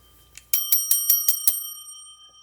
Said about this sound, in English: That's the old bell.